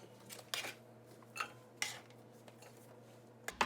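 Chunks of pork fat are dropped and scraped into a Dutch oven for rendering lard, a few sharp metallic clinks and knocks spaced apart over a quiet background, close and fairly soft.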